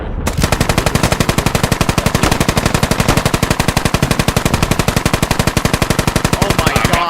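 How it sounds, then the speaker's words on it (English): Loud, continuous automatic fire from an M240 machine gun in the tactical shooter Squad, a rapid, steady stream of close shots running the whole length without pause. "hear the M240 shoot, and all the shell casing just pouring in front of the window"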